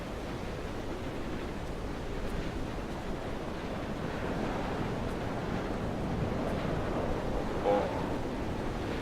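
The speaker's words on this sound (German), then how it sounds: "Wind." On a windswept cliff top in the game Dear Esther, a steady roar of wind rushes and swells like distant surf, filling the scene evenly for several seconds.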